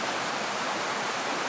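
Upper Westfield River flowing in late September, running high, with a steady, dense broadband rush of water close by and no other sounds.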